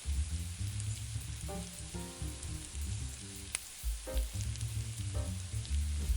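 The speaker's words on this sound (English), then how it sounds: "When the bananas are tender, add the brown sugar, and let it melt into the bananas." Bananas and brown sugar sizzle in a pan, a steady close crackle with scattered pops and soft clinks of stirring throughout.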